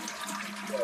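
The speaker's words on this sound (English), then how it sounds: "Flush that toilet." A toilet flushes, a brief watery rush of moderate loudness heard in a short snippet with no voices.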